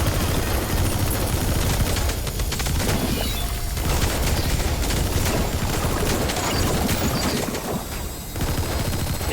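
Sustained heavy gunfire in Metal Gear Solid V, a dense loud barrage of rapid automatic shots and blasts filling the whole stretch with barely a pause.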